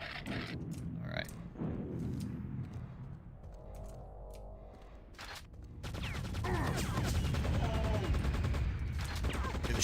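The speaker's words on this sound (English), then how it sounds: "The shooting reminds me a lot of Half-Life" Weapon fire in the shooter Quake II RTX, with scattered sharp shots early on and then a dense, sustained burst of rapid gunfire and clatter near the end; close and loud.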